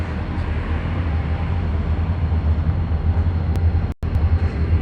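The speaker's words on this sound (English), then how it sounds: "The train happens to be going by." A Pan Am Railroads freight train rolls past near a cemetery, a constant low rumble and rolling drone that fills the scene, with a brief dropout near the end and no talk.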